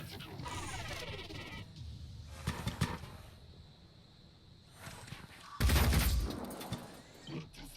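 Bursts of gunfire in the tactical game Phoenix Point strike an armored vehicle from several sides, with rapid volleys and a louder, heavier burst near the end. They sound under ongoing game ambience.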